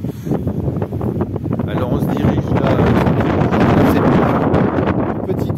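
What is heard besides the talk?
wind blowing outdoors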